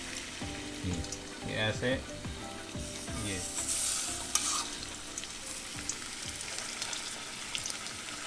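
Meatballs frying in hot oil give a close, steady crackling sizzle with intermittent clinks and stirring, while a voice speaks briefly over the cooking.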